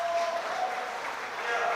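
A crowd at a world classic powerlifting championship applauds with a steady wash of clapping and cheering, while a commentator's voice talks over it.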